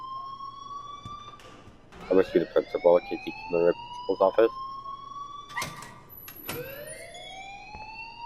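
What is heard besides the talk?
school fire alarm ringing, from the video game Life Is Strange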